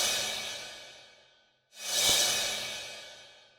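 Two swelling whooshes built from layered synthesized sounds and washed in hall reverb at a half wet mix, the first fading out slowly, the second rising sharply before a long airy tail; no voices.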